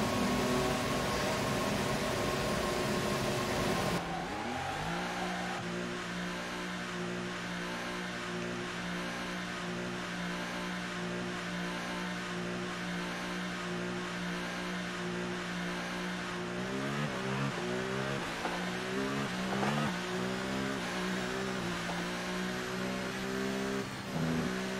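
A McLaren F1 car engine in the F1 2018 video game, idling before its tone drops, then climbing steadily through rising pitch sweeps and gear changes as the car drives out at the British Grand Prix, loud and continuous with no talk.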